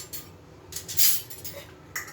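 Metal utensils and dishes are set down on a home kitchen counter, giving several light clinks and clatters spread irregularly over a couple of seconds, close and fairly quiet.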